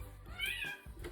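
A pet cat gives one short, rising and falling meow, fairly close and distinct above a low background rumble.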